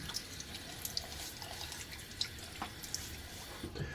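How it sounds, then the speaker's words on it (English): Tap water runs steadily into a bathroom sink while a face is splashed and wetted, with scattered drips and small splashes over a continuous close hiss. "let me get my face wet"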